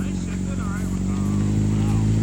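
Honda CBR600RR sport bike engine running loud and steady, a strong low droning note with harmonic layers throughout, while people talk over it.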